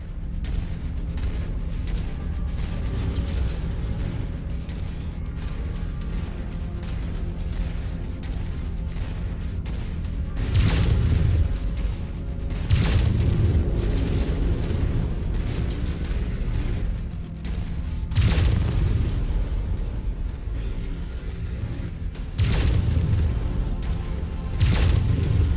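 Explosions tear apart a target in Mechwarrior 5 Mercenaries: a steady rumbling battle bed is broken by several heavy booming blasts at irregular intervals, loud and close, with no talk.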